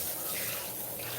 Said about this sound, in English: First thing I'm going to do is just saturate her hair with the water.